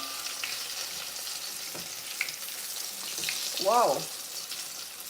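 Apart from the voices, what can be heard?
chicken frying in hot oil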